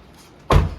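A single heavy door slams shut nearby with a sharp, loud thud, then a low rumble that dies away.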